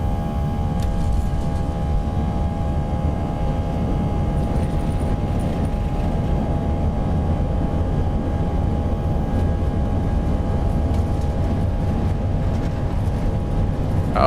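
Airbus A319 jet engines at takeoff thrust in the X-Plane 12 simulator, a steady loud broadband roar with a whining tonal hum, sustained and unchanging throughout.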